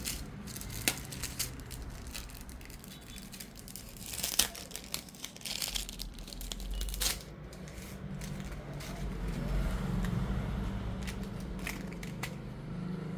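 Plastic packaging crinkling as earrings and a necklace are unwrapped, with close, irregular rustles, crackles and tearing sounds that build into a steadier crinkle toward the end.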